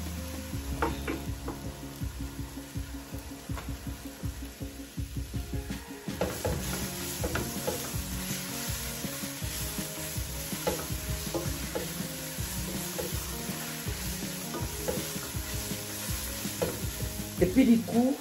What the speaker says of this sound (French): Là, notre fumbois, je suis en train de les frire.